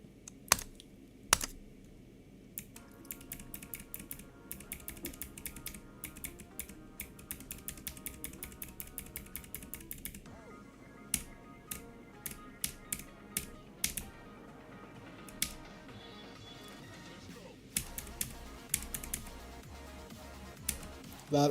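Keys clack on a computer keyboard during play of the rhythm game Geometry Dash, with sharp close taps in rapid bursts and irregular runs separated by brief pauses, with no talking.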